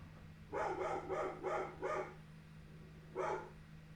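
A dog barks five times in a quick, evenly spaced run, then once more after a pause, moderately close over a steady electrical hum.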